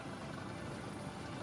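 AS-565 Panther military helicopter flying over a naval ship during a vertical replenishment at a military parade, a steady, distant broadband rotor and engine roar that stays faint and even throughout.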